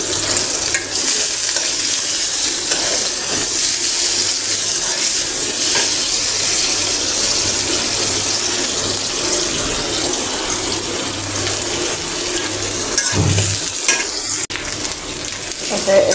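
A paste of ginger, garlic, cumin and dried chili fries and sizzles in a pan, a loud steady crackle lasting throughout, with occasional stirring scrapes and no talking.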